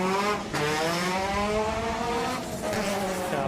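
Mini Cooper WRC replica race car launching at a street sprint, engine revving hard through stepped gear changes, rising pitch repeatedly climbing and dropping, loud and close.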